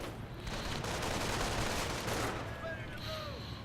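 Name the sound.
mortar and gunfire in a real-time strategy video game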